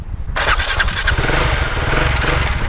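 A Husqvarna Vitpilen 701 motorcycle engine cranks and catches, its rough, loud idle rumbling steadily up close with no voices over it.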